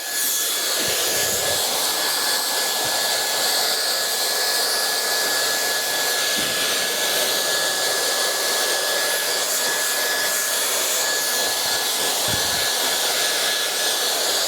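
A hair dryer blows steadily while a fringe is styled from behind the client, a constant loud whooshing roar with a faint steady whine running through it and a few brief dips as the airflow shifts, with no talking.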